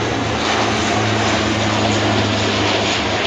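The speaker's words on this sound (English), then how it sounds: "we'll wait for the massive plane going over my head" Large airplane passing overhead above a backyard garden, a loud continuous engine roar and broadband rush holding steady throughout, with no talking.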